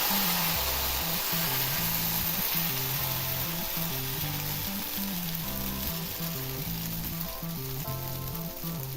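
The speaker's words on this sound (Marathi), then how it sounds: "पॅन गरमच झालेला आहे त्याला असं तेलानं असं ग्रीस करून घ्यायचं वाटीच्या साह्याने असं पीठ टाकून घ्यायचं" Ragi dosa batter sizzles on a hot pan greased with oil, a steady close frying hiss that runs continuously with no talk.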